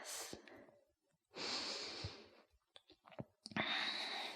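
Deep, slow breathing during a graceful yoga flow, with three long breath sounds separated by pauses and a few small clicks between them, close and soft.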